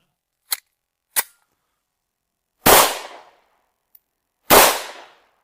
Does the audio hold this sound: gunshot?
yes